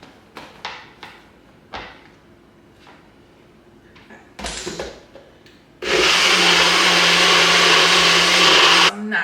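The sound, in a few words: blender blending mango saffron sea moss smoothie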